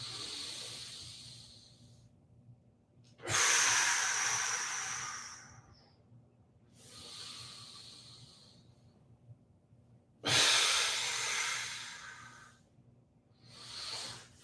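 Deep, forceful breaths during a ribs-down core exercise, long airy exhales and inhales in separate bursts about every three to four seconds, close and fairly loud over a low steady hum.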